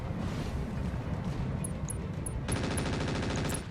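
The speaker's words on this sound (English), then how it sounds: "Shooting the turret." Weapons fire from mechs in the game Roguetech pounds a turret in a continuous, heavy barrage, switching partway through to a fast, steady rattling stream of shots, loud and unbroken.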